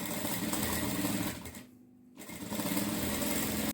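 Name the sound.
sewing machine stitching a pattu saree blouse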